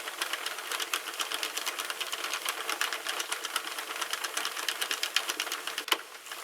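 A Sentro knitting machine is cranked by hand, giving a fast, even run of light plastic clicks and ticks at close range, steady throughout with a slight clunk near the end.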